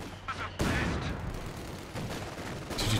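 Continuous gunfire and mortar fire in the Company of Heroes 2 video game, loud and dense, with a heavy blast onset and sustained rumbling battle noise under faint talk.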